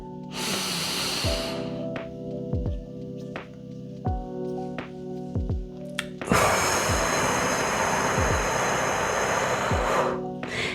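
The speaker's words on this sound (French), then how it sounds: "Sur 4 temps, vous allez inspirer à fond, bloquer sur 5 temps et expirer sur 6" Slow, deep breathing in a guided breathing exercise: a long, airy inhale, a held pause, then a strong hissing exhale, heard close and loud with soft background tones.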